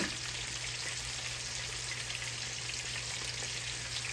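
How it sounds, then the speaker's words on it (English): Whole perch frying in hot oil, a steady dense crackle and sizzle held close and constant, with no voices over it. "it don't take long at all to fry fish, y'all"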